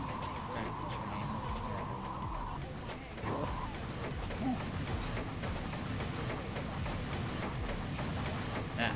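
A train in the video game Sonic Adventure 2 gives a steady, dense rumble of rolling wheels and rattling cars throughout, with a brief tone near the start.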